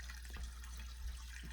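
Filtered water runs steadily into a container while tepache is being made, a continuous low, even pour close by with no voices over it.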